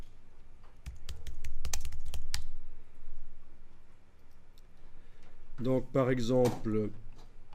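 Quick clicking keystrokes on a computer keyboard in a rapid burst, close and clear, followed by someone speaking French.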